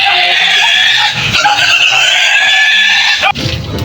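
Wild boar grunting and squealing at close range, rough continuous nasal snorts and harsh cries filling the space, loud, with a few people's voices faintly behind.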